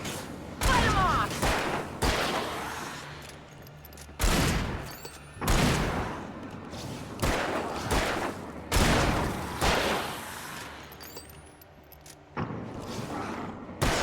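Gunfire in the video game Alan Wake: loud, booming shots ring out one after another at uneven intervals, each followed by a short decaying echo, with low ambient rumble between them.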